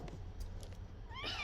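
A pet cat meows briefly indoors, a short rising cry near the end after quiet room tone, close and moderately faint.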